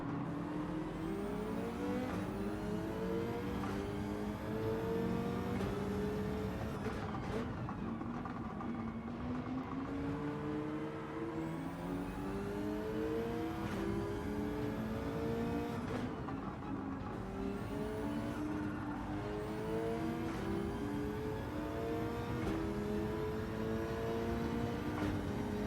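Race car engine in Gran Turismo 7 revving continuously with rising and falling gear-shift sweeps, loud and steady throughout, no talking.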